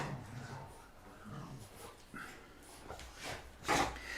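Dogs in an art studio whimper and snuffle close by during a live painting session, with soft rubbing and shuffling noises and a sharper burst near the end.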